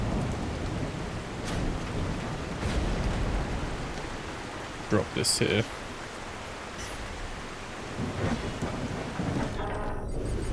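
A thunderstorm with rain in The Last Caretaker: steady rain hiss with low rumbling thunder, and a couple of sharp crackling bursts midway, while a voice speaks briefly.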